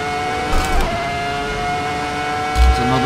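A Ferrari F2004 V10 engine accelerates in the Assetto Corsa racing game at Silverstone, a loud, continuous high-pitched whine with steadily climbing tone and brief low thuds, dense and close throughout.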